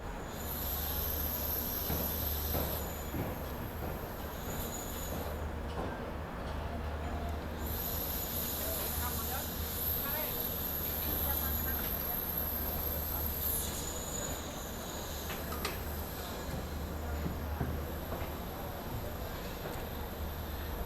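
A Bharat Gaurav AC Deluxe tourist train on the Garvi Gujarat route rumbles steadily along from inside, with a continuous low rail drone, rhythmic wheel clatter, a faint high squeal and hiss, and no break throughout.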